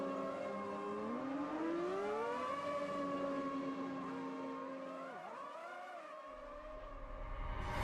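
Ferrari 412 T2 V12 Formula 1 car in the Automobilista 2 racing game, a loud high-pitched engine wail whose tone climbs and dips steadily through the revs with gear shifts, without any voices.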